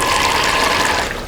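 Water forced out by the filter pump of a FEIYUE FY12 amphibious 1:12 4x4 RC truck, a loud, close, steady rushing and gushing that tapers slightly at the end.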